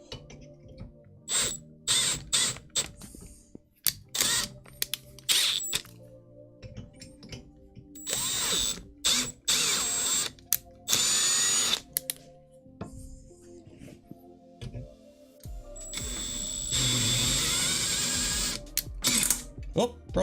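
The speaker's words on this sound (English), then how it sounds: "these holes are drilled and tapped, well, drilled for 4mm" Drilling 4mm holes in a steel 3D printer frame, with bursts of high whining drill noise, ratcheting clicks and metallic handling clatter in a workshop, starting and stopping irregularly, loud and close.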